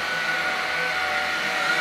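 A Shark Anti Hair Wrap cordless stick vacuum cleaner runs steadily with a constant high whir, close and alone, without speech.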